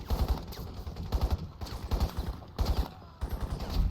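Sustained automatic gunfire in Crysis, repeated bursts of close, loud shots separated by brief pauses, with echoing battle noise between them.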